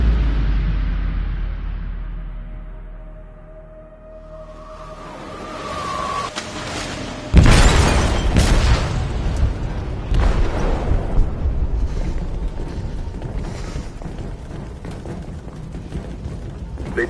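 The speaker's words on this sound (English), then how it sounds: "They detonated an explosive in the hold." A loud sudden explosion inside a ship's hold in the video game Detroit: Become Human, bursting out after a low rumbling build-up and followed by a sustained roar of debris and mechanical noise.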